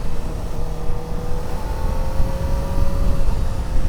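A 2024 Kawasaki Ninja ZX-4RR motorcycle engine runs at high RPM with a steady whine, ridden at speed with loud, continuous wind and road rumble underneath.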